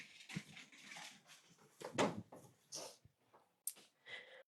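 Dogs whimper and whine near a door in short, uneven bursts, with a few sharper yelps and some scuffling noise between them, all fairly close.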